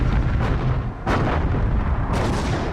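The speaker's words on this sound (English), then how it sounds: "At 3:51 a.m., radar-controlled guns on the American battleships open fire." Radar-controlled naval guns aboard American battleships fire in three heavy bursts, each a broadband boom that rolls into a dense, rumbling wash of ongoing gunfire with no quiet between shots.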